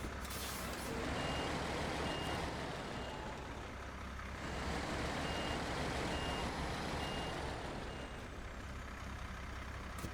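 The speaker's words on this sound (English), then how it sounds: "I've gotten enough log trailer reversing practice in." In a driving game, a truck slowly reverses a log trailer with a steady, loud engine drone, faint intermittent reversing beeps and a hiss of air brakes, with no talk.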